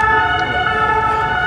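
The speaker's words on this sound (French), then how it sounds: "Bon, ils s'amusent, ils font jouer leur sirène." A police car siren wails loud and close in a street at Châtelet, Paris, a steady sustained tone over low traffic rumble, with no speech.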